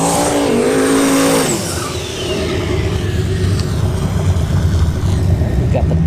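Turbocharged Fox body car at a drag strip during test-and-tune runs, a loud engine roar that rises, dips briefly, then holds steady as the car returns, with faint voices in the background.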